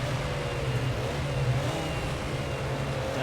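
A race car engine in Project CARS 2 drones loudly and steadily at the classic Bathurst 1000, its pitch shifting slightly as the car drops down into first gear, with no talk over it.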